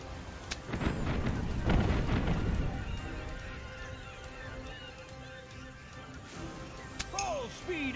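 Pirate ship cannons fire in Tortuga: A Pirate's Tale, with a sharp boom followed by a heavy rolling barrage and a final blast, loud against a background of game sounds.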